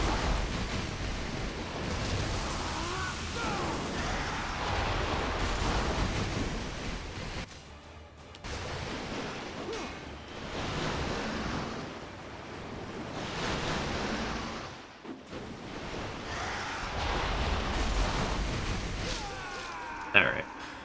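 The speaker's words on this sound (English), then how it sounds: "it's just a matter of just me actually dodging the water spouts" Water spouts gush in surging, wave-like roars during a boss fight in Ninja Gaiden II Black, rising and falling in loud bursts with brief lulls between them, under game noise.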